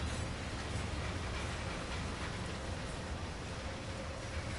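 A train pulling away in the Train Sim World video game, a dense, steady rumbling roar of wheels and engine that fills the whole clip without pause.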